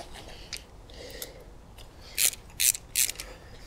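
Ratcheting wrench turns while loosening bolts on a Suzuki SV1000 motorcycle, a few faint clicks early and then three louder, close bursts of metallic ratchet clatter, alone with no speech.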